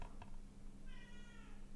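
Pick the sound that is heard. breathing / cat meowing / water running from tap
cat meowing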